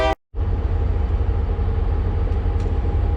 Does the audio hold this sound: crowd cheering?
no